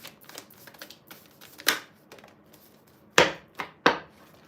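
Tarot cards are shuffled by hand, giving a run of quick, close, dry riffling and tapping sounds, with several louder snaps as the deck is squared.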